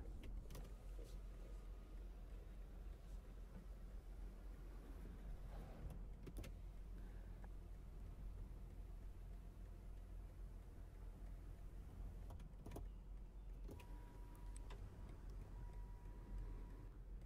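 Motorized panoramic glass sunroof sliding open inside a BMW M car cabin, a steady faint electric whir running for many seconds with a few brief clicks and ticks, no talking.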